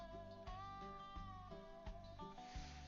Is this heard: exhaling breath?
no